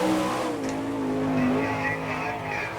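Sprint car lapping a dirt track at an All Star Circuit of Champions Winternationals race in Gibsonton, Florida; loud steady engine roar with rising and falling pitch, tire noise and a faint crowd.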